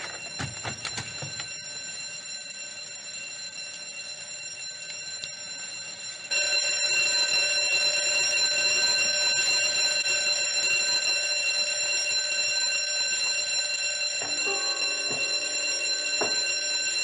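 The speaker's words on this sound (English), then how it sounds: "We have an audible alarm." A burglar alarm at a cannery rings continuously with a steady, shrill electronic tone that grows louder after about six seconds, a few faint knocks and clatters underneath, and no one speaking.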